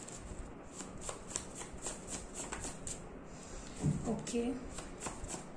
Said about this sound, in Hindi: जो मैं कार्ड्स जब शफल कर रही थी